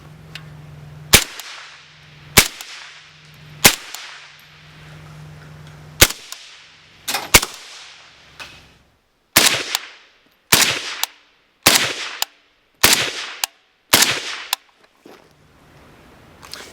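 Sandman-S shotgun fired in a series of about thirteen sharp, loud reports, spaced unevenly at first and then in quicker succession, with faint handling noise between shots and no talking.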